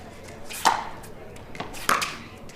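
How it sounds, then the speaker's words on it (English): Pickleball struck off a player's paddle during a match, two crisp hollow pops about a second apart, close and clear over faint background. "the sound of the ball off Parento's paddle sounds better right now"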